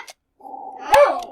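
Dogs growling and whimpering indoors at home, a single low rumbling growl that swells into a louder whining yelp before fading, close and alone without talk.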